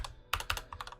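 Quick bursts of typing on a computer keyboard, several crisp close-up key clicks in uneven clusters, entering a number, with no talking.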